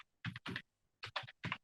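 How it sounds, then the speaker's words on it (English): Keys tapped on a computer keyboard while entering a web address, in two quick bursts of about three clicky strokes each separated by a short pause, close and clear with no voices. "Let's say I'm typing here Microsoft.com"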